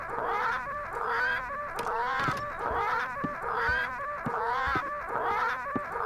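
Parrots in the Return to Monkey Island video game squawk in a repeating pattern of harsh, raspy bursts, about six in quick rhythmic succession, fairly close and alone.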